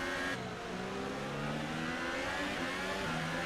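Formula 1 race cars in a video game, including McLaren and Williams cars held up in traffic, whining and revving in a steady, loud, continuous engine drone with rising and falling pitch.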